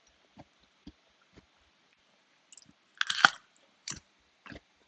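Someone eats a crunchy fruit picked from a tree, with soft, sparse mouth clicks and then a loud, close crunching bite followed by a few quieter chews, set against near silence.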